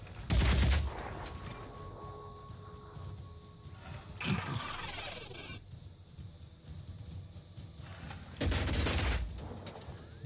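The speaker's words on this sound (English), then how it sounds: "they're shooting us on all different sides" Bursts of gunfire striking an armored vehicle in the game Phoenix Point, three heavy clattering volleys separated by quieter stretches of rumbling ambience.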